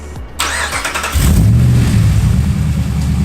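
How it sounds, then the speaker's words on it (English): A car engine cranks briefly, catches and settles into a steady, loud idle close by, with no talking over it. "We're gonna start her up and let her idle for 15 minutes."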